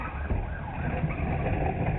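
A police siren wails during a high-speed chase, a steady, moderately loud tone mixed with road and engine rumble, heard alone without talk.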